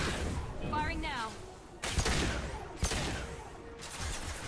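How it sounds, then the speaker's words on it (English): Gunfire in Mass Effect 2 on Insanity difficulty, with sharp loud bursts of weapon shots cutting through, preceded by a voice and electronic chatter; two or three distinct heavy blasts stand out over a dense combat din. "Firing now."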